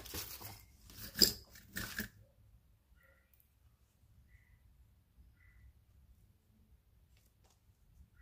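A piece of faux leather fabric is folded in half for a crossbody messenger bag. A brief, close rustling and crinkling of the stiff material lasts about two seconds, then gives way to quiet with a few faint ticks.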